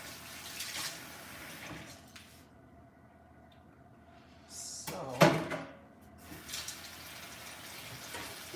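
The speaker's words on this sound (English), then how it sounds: "Some water on this." Kitchen tap water runs steadily into a sink during pie crust baking, a close rushing hiss under brief talk, with a clatter midway.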